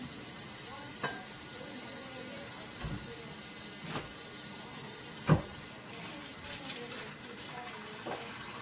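Drained sun-dried tomatoes fry in a hot pan with a continuous, even sizzle, broken by a few light knocks and clinks of a utensil, one louder thump midway.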